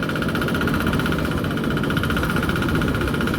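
Engine of a corn sheller machine held at high throttle on a farm, a loud, close, continuous drone with a fast, even knocking vibration and no voices.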